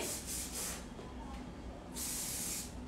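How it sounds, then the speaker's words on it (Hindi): Shine spray for styling a bridal front hair variation hisses out in two short bursts, a longer third burst following after a pause, close and fairly quiet. "shine spray"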